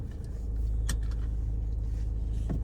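A car being parked on arriving home after a grocery trip: a steady low engine rumble at close range with a few faint clicks and movement noises.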